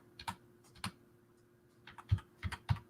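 Sparse, irregular keystrokes on a computer keyboard tapped with one hand, a couple of quick clicks, a pause, then a few heavier taps, close and fairly quiet with no talking.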